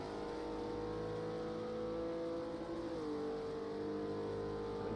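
A GT3 race car in a racing sim game accelerates out of a long double-apex left-hander onto the back straight, its engine drone loud and steady, with the pitch rising and shifting partway through.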